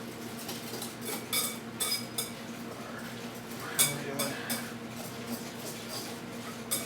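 Cutlery clinks and scrapes against a bowl as shredded cheese and egg are mixed for a cheese crust pizza, with rhythmic stirring taps and a sharper clank near the middle, close and moderately loud.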